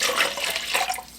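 Hot water pours from a tap into a small glass mason jar, a steady close splashing flow that softens slightly toward the end.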